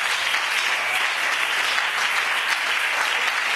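A church congregation applauds loudly and steadily in praise of the Lord Jesus, a dense, continuous wall of clapping that holds evenly throughout with no pauses.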